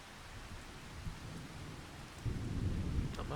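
Rain pouring with rumbling thunder in the farming game Farming Simulator 25, a steady wash of rainfall that swells into a louder, deeper rolling rumble toward the end.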